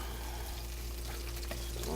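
Fish fries in hot oil, a close, steady crackling sizzle that holds constant throughout the short stretch.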